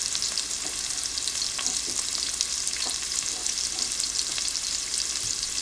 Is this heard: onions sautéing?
yes